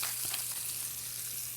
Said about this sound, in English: I'm gonna let it simmer for just a minute on the stovetop